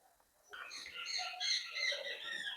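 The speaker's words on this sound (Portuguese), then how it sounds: "Pássaros maravilhosos." Birds sing in a bright, chirping chorus after a brief quiet start, several overlapping calls close by and moderately loud.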